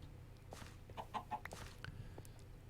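Minecraft chickens clucking in the Nether: a few soft, short clucks in a quick cluster over a low ambient game hum, with no talk.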